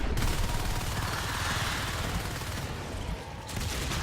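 Dense, continuous gunfire from shotguns pounding an alien hive in Natural Selection 2, a steady loud fusillade with no pauses across the whole stretch.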